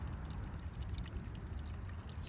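Gentle waterfall spreading out into a shallow, marshy river, heard as a steady low rushing and trickling wash of water that stays even and continuous throughout.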